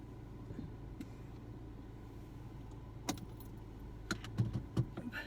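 A car starting by remote start amid keys jangling, with a steady low engine rumble throughout and several sharp metallic jingles near the end, fairly close and with no talking.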